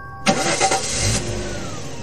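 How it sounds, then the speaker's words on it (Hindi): A car engine cranks with a few rough, uneven turns and then trails off into a low rumble without catching. Heard up close and alone, with a faint tonal background underneath. "गाड़ी स्टार्ट नहीं हो रही है"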